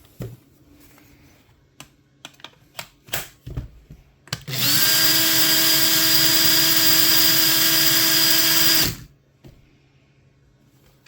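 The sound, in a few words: repaired Makita 18V cordless drill running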